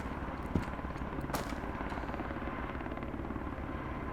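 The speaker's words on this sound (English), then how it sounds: "There's a helicopter patrolling." Patrolling helicopter in the video game Road to Vostok, a continuous rotor drone at moderate distance, steady and low with a faint rhythmic beat, alone without talk.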